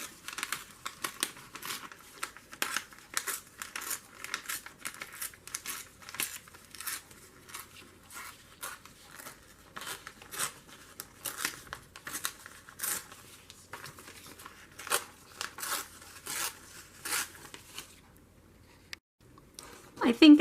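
Paper being torn up by hand for a journal page: repeated short crisp rips and crinkles in an irregular rhythm, close and fairly quiet, with a person talking at times in between.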